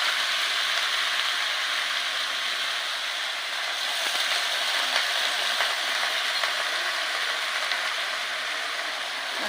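Pumpkin pieces frying in hot oil for a Janmashtami bhog offering to Gopal, giving a steady, dense sizzle that stays close and even throughout, with faint stirring clinks and no talking.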